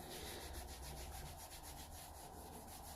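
A soft, steady rubbing wipes leftover tattoo ink off a synthetic fake-skin practice pad, a continuous quiet scrubbing with faint rhythmic strokes and no talk.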